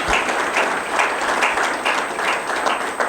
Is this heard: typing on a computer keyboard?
no